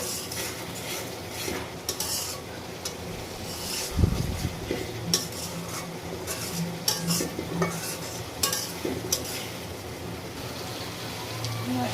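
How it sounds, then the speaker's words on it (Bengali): Spice paste of onion, garlic, ground coconut and chilies frying in a pan for prawn bhuna, with soft continuous sizzling and repeated scraping and clinking of a spoon stirring, one heavier knock midway. "এখানে মশলাটা কষাচ্ছি, পেঁয়াজ, রসুন, নারকেল বাটা, কাঁচামরিচ, শুকনো মরিচ"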